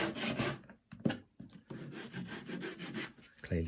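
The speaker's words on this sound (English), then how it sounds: "Just letting the saw run up and down." A hand saw cuts wood in steady back-and-forth strokes, rasping close up with a brief pause partway through, for a bespoke farmhouse kitchen build.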